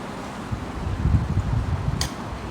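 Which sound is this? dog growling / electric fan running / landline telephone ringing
electric fan running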